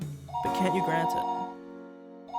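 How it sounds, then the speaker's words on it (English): A telephone rings in the Higurashi video game, a sustained ringing tone with chime-like ding-dong notes sounding under a voice talking. "Oh, is that not the telephone?"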